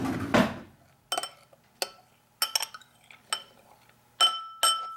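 Spoon or utensil stirring pepper into a sauce in a bowl, giving a series of distinct clinks and taps against the dish, spaced irregularly after an initial soft scrape, close and fairly clear with no talking.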